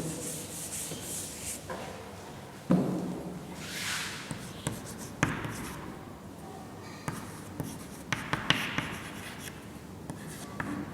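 Chalk or marker writing on a classroom board during a chemistry lesson: scratchy strokes and taps in uneven bursts, fairly close, with no speech over them.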